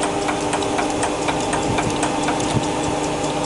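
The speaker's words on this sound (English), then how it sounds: "Head is coming in and plough grinding." A Jones & Shipman 1311 cylindrical grinder plough grinds as the head feeds in, giving a steady, loud mechanical drone with a faint regular pulsing throughout.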